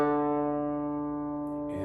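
A single sustained D note on a digital piano rings out clean and steady, slowly fading with no other sounds until a faint noise at the very end.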